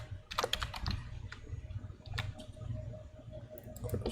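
Someone types a name on a computer keyboard, a quick run of light plastic key clicks in short bursts with brief pauses, close and clear over a low steady background hum, with no talk.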